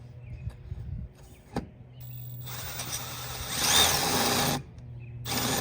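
A power tool cuts through the wooden transom of a 1986 Rinker boat and into the fiberglass behind it, a steady close grinding with short pauses. The grind swells louder and harsher near the end.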